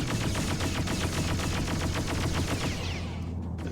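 Rapid, continuous weapon fire from a spaceship in the space game Freelancer, a dense rattling burst of shots close and loud, tapering at the end.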